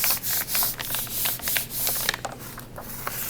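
Fingers rub back and forth over a glued paper cutout, pressing it flat with a rapid series of soft, dry scraping strokes, close and fairly loud, with no voices.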